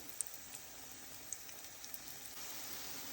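Banana pancake batter sizzles softly in a hot pan after being flipped, a faint, steady crackle with scattered tiny pops and no voices.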